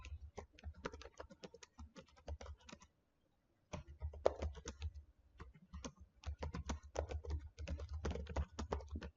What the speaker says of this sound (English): I hope you can see that I can't type